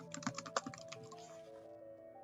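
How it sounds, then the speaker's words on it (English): Typing on a computer keyboard, a quick cluster of soft, close key clicks that tapers off into quiet, over a faint steady hum. "I would type in the date that this was completed"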